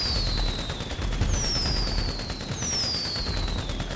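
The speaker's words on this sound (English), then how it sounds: "Who's shooting a machine gun?" Machine gun fire in GTA 5 during a Fourth of July military session, a continuous rattling barrage under sweeping high whistles of passing rounds or fireworks, steady and fairly loud throughout.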